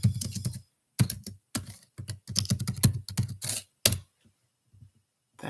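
Bursts of rapid typing on a computer keyboard, close and clear, in several quick runs separated by short pauses, with nobody speaking.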